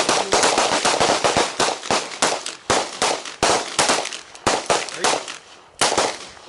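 A handgun fired at a target on an outdoor training range, many sharp loud shots in quick bursts with short pauses between strings, each crack ringing briefly.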